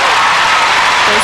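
A capacity crowd in the Tacoma Dome applauds a men's free skate at the 1990 Goodwill Games figure skating, a loud, dense, sustained roar of clapping with a commentator talking over it.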